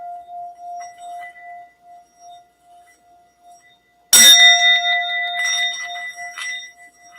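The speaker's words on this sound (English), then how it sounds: "find a bowl that you can get to do its little thing here, like singing" A singing bowl rings with a sustained steady tone, then a sharp strike sets off a bright, shimmering ring that slowly decays.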